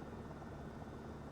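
Close, unbroken drone of an H125 single-engine helicopter in a flight simulator, a low churning rotor wash with turbine hiss holding at a constant level from start to finish, with no voices.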